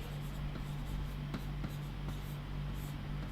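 Chalk or marker writing on a board in a classroom lecture, scratchy short strokes and taps over a steady low electrical hum, with no voice.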